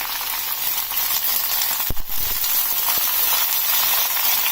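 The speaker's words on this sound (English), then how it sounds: "Once added, coat them all with oil. Just stir them in." Mixed vegetables and brinjal being stirred in hot oil in a pan, a steady close sizzle and hiss throughout with a brief scraping stir partway through.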